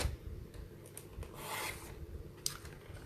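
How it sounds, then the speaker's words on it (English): Trimmer blade slicing along the top edge of a paper pocket card, with scraping and rasping strokes and a few sharp clicks, close and moderately loud, no talk. "Just doing this so it's got a straight edge across the top."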